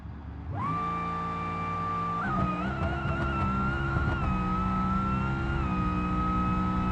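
A taxi-liveried Gabriel Bluebuck drag car in BeamNG-style racing starts up and holds a loud, steady engine drone, with pitch shifts as it revs and shifts, close and continuous with no talking.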